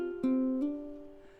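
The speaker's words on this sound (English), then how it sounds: "I might choose to hammer on that D note." On guitar, a D note is sounded with a hammer-on, a brief pick attack followed by a quick legato step up in pitch, ringing close and soft as it fades.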